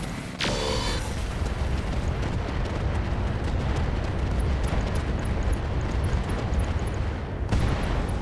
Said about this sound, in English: The Orion's out of here. Mech destroyed.